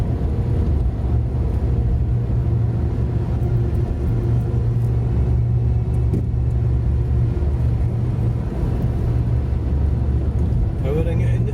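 A car's engine rumbles steadily as it powers into a corner on Scottish roads between Cumbernauld Town Centre and South Alloa, a constant low drone heard from inside the vehicle with faint voices under it.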